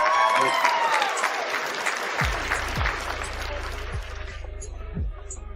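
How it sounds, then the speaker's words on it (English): Applause and some cheering from an audience, loud at first and then thinning out, with a few electronic tones near the end. "Give her a round of applause, please, Annie."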